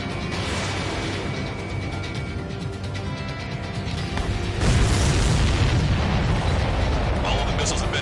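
Missiles explode in the Ace Combat flight game amid a dense layer of jet and combat noise, the roar swelling into a heavier, louder rumbling burst partway through.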